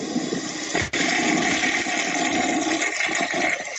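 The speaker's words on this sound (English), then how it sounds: "The old flushing toilet." An old toilet flushes in one loud, continuous rushing surge of water with a brief click near the start, the gush holding steady close to the listener.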